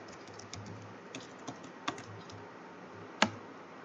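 Code is typed on a computer keyboard: sparse, irregular key clicks with a few louder taps, close and alone over a low background hum.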